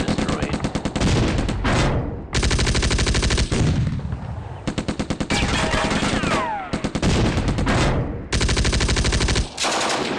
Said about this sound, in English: That was one hell of an exchange of fire.